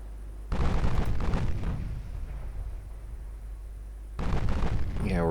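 Two deep booming salvos of 8-inch naval guns on a light cruiser in a naval battle game, each a heavy low blast rolling into a rumbling decay, with a whistling shell-like sweep rising at the very end.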